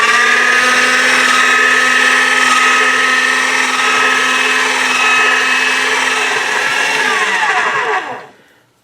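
A motorized pasta machine rolls a sheet of polymer clay thinner to setting 5, giving a steady, loud whirring mechanical drone with a high whine that runs evenly for several seconds and then stops abruptly.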